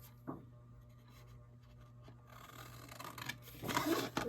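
Scissors cut through material while someone works on a sewing-themed journal: a faint snip near the start over a low steady hum, then a louder rasping cut toward the end.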